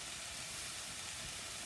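Sesame oil sizzles in a pan on the stove, a steady, faint, broadband hiss that holds evenly throughout with no talking.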